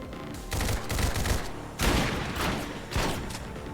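Rapid bursts of gunfire from soldiers firing at will in the XCOM 2 video game, several loud volleys in quick succession with short gaps between them, with no talk over them.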